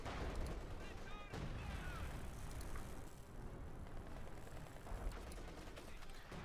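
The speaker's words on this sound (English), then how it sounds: "More shots fired." Scattered gunfire and artillery from a Company of Heroes 2 match, OKW versus Soviet forces, crackling and popping in bursts across a dense battle mix, with a commentator talking over it.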